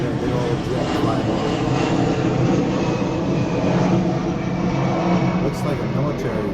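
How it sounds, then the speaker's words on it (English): A military jet flying overhead, a broad continuous engine roar that fills the whole stretch at steady moderate loudness, with outdoor background noise and no clear talk. "Looks like a military jet."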